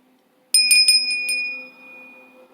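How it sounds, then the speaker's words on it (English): A bell used to reset the frequency is struck several times in quick succession, its bright ringing tone sustaining and slowly fading, with no talking. "I got this beautiful bell. We're going to use it to reset the frequency."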